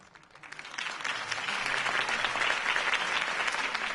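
A crowd bursts into applause after a campaign speech for a city election, the clapping swelling within a second into a dense, sustained roar of hands that holds steady.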